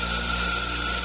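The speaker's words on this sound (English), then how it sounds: "I'll turn the machine on, and it's going to drill and come up and drill a hole in the bottom of the tree" A tree stand machine drills a hole into the bottom of a Christmas tree, giving a steady, loud, high-pitched whine with constant tone throughout and no pauses.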